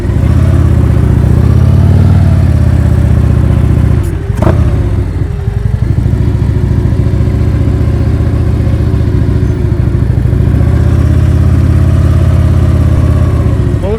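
Motorcycle engine running loud and close during slow-speed riding practice, a steady low throb with a sharp clatter near the start, then an even idle-like drone as the bike eases to a stop.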